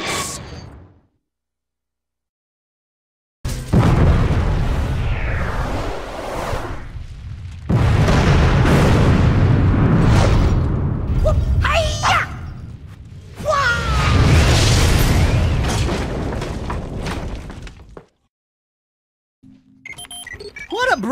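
In the video game Jak 2, bombs go off in eco wells as deep booms and whooshing bursts. They come in loud clusters separated by short silences, and busy game sounds fill the gaps between them.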